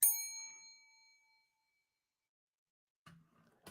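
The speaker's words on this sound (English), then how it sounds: "That bell ring for me." A single bell rings once with a bright metallic strike, its tone ringing out and fading over about a second, followed by silence and then brief faint rustling noise.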